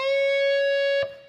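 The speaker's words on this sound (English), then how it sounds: "the second bend is a half step bend from fret 13" An electric guitar note sustains cleanly with a bright, ringing tone, then cuts off with a short, sharp noise near the end; any half-step bend up a semitone at fret 13 shows no clear rise in pitch, heard alone.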